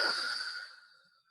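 A single slow, controlled exhalation during a deep-breathing exercise, heard close and soft as a breathy hiss that fades steadily away over about a second.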